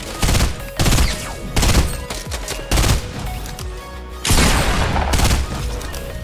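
FAMAS burst rifle fire in Fortnite Battle Royale, loud close bursts of rapid shots recurring in several clusters with brief gaps between them, dense and sharp throughout.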